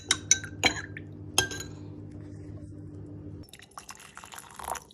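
A metal spoon clinks sharply several times against a glass jar while date syrup, vinegar and water are stirred, followed by a quieter stretch and then softer liquid swishing and clatter, with no talking.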